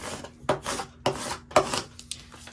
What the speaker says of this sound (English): I'm going to use my scraping tool and press down from the back